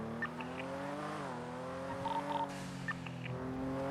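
Street racing cars in GTA V NoPixel roleplay, a blue muscle car among them, with a steady engine drone that shifts pitch, brief tire squeals and skids layered over the continuous hum.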